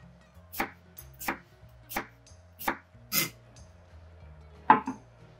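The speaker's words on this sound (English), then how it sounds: "I'm gonna thinly slice 100 grams of Japanese cucumber" Japanese cucumber being thinly sliced with a knife on a board, six crisp separate chops spaced about half a second apart, close and clear over quiet background.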